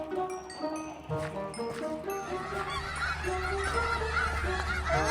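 Many chickens in the survival video game Simple Survival cluck and squawk over one another in a busy, overlapping chorus, with a steady low hum underneath.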